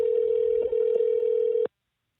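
A telephone call rings out in a steady continuous tone, loud and close, cutting off abruptly into silence after about 1.7 seconds.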